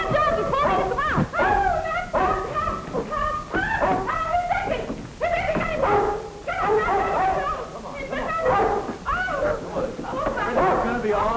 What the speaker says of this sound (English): Princey, you naughty dog, you shouldn't have done that